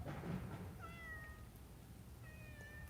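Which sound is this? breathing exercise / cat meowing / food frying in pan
cat meowing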